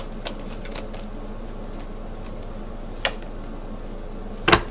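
Tarot cards are shuffled softly and steadily in a quiet room, with a couple of sharper taps or snaps near the end.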